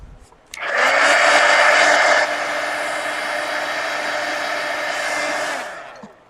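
A hair dryer blows steadily on a freshly painted art journal page made with a color book page, starting loud and easing slightly into a constant close-up whir for about six seconds before cutting off.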